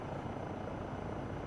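A helicopter in the game Microsoft Flight Simulator 2024 drones with a dense, steady rotor and engine roar, constant and loud throughout with no talk.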